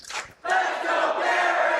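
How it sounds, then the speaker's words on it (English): A crowd roars and cheers at a Minecraft speedrun world championship, a short burst of loud, sustained collective shouting that swells after a brief dip. "The crowd getting into it."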